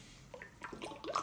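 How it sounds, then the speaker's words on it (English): Water being sipped and swallowed indoors, a short burst of wet gulps and lip sounds, close and fairly quiet. "let me drink some water"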